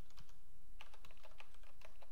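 Close computer keyboard typing during a Ruby programming lecture: a quick, irregular run of crisp key clicks, some landing in small bursts, with no talking.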